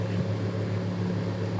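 A deep bass pipe organ note from a huge bellows-fed pipe, heard as a steady, low, rumbling drone that holds evenly at close range without a break.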